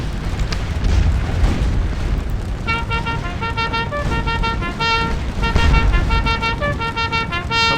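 Musket volleys rattle against cavalry in a Napoleonic Waterloo battle game, a rolling spread of dull booms and cracks over continuous battle din, with bugle-like tones sounding through the middle and end.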